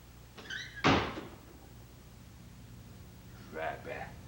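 A door is pulled shut with a single solid knock, with voices speaking just before it and again a few seconds later.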